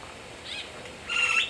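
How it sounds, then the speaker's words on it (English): A blue-winged macaw at a zoo gives a couple of faint, brief high calls against quiet background noise, the second a little louder and rasping. "Got blue winged macaw."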